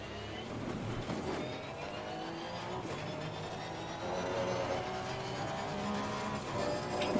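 A race car circling Silverstone in Assetto Corsa Competizione, engine droning and shifting at moderate level amid a busy background wash, no voices.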